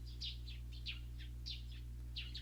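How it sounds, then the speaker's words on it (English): Cicadas in the Steins;Gate video game on an early summer morning, quiet repeated chirping pulses over a steady low hum. "Too bad the cicadas are already chirping."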